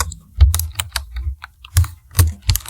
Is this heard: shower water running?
no